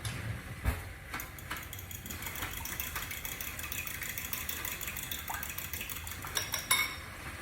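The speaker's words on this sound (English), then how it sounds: "I'm gonna get out my big spoon, and I gotta get a fork also" Metal cutlery, a big spoon and a fork, clatters and clinks against dishes in a home kitchen, with a few sharper knocks over a steady low background hum.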